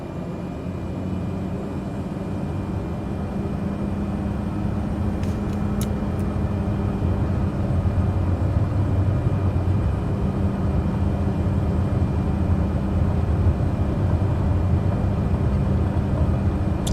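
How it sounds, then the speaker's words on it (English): Aircraft engines spooling up to takeoff thrust on a Martel Air regional flight departing Lockhart River, a loud steady roar with a broad low rumble filling the cabin continuously throughout, no talking. "power lever gently advances to takeoff thrust"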